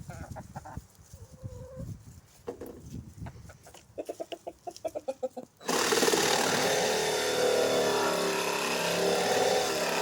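A chicken clucks around a barn restoration job, with sharp rhythmic taps and work noise in the first half, then a loud, steady broadband roar of machinery takes over and the clucking is lost beneath it.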